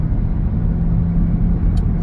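A Hyundai Santa Fe PHEV 1.6 T-GDI accelerating from 100 to 140 km/h, a steady low engine and road rumble heard from inside the cabin, loud and continuous with no talk.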